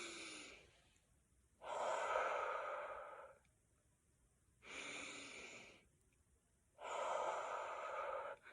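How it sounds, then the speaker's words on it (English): Slow, deep breaths, in through the nose and out through the mouth, as in a guided breathing exercise for children: four long, soft airy breaths with quiet pauses between, close and clear, with no talking. "take 3 deep breaths. So the best way to do this is to breathe in through your nose and out through your mouth 3 times"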